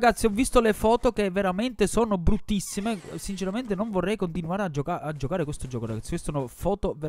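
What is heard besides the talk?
No distinct noise like a dog, phone or traffic.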